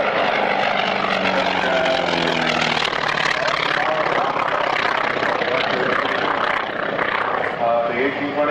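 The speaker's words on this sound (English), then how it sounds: "This is a North American aircraft called the T-28 by the United States Air Force" A North American T-28 trainer with its Wright R-1820 radial engine roars past at an airshow, a loud, throbbing propeller drone that shifts pitch as it passes, with a commentator talking over it.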